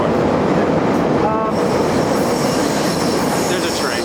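A train rumbles past close by with a loud, continuous roar and grinding rail noise, and faint wheel squeals rise above the steady din.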